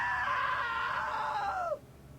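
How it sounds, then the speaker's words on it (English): A single drawn-out scream from a character in the video game What Remains of Edith Finch, high and wavering, holding for nearly two seconds before bending downward and cutting off into quiet. "Now that was a great scream."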